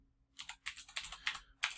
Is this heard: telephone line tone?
no